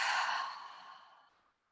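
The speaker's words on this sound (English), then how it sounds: "Exhale fully." A long, deep exhale during yoga breathing practice, a soft airy sigh that starts full and close then fades steadily to silence over under two seconds.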